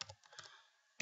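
Quick keystrokes on a computer keyboard while typing an IP address, a short burst of light clicks followed by a pause and one final louder key press, close and alone.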